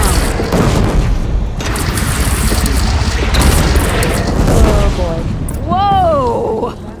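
A bridge is blown apart in Horizon Zero Dawn Remastered. A loud, rumbling explosion with crackling blasts fills the scene and holds for several seconds, then a voice exclaims briefly near the end.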